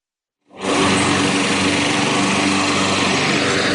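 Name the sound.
lawn mowers hand mowing golf course rough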